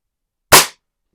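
A single sharp crack of a BSA Super Meteor .22 break-barrel air rifle fired downrange, a close, loud burst that cuts off quickly into silence.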